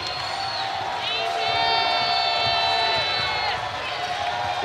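A home crowd at an Alabama men's college basketball game against Florida State roars and cheers loudly and steadily, with whistles and shouts rising through it and a commentator talking over the noise.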